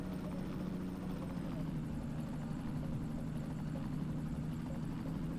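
A helicopter in the Go Vacation video game gives a constant, steady rotor and engine drone that stays level and fairly quiet throughout, with no breaks or changes in pitch.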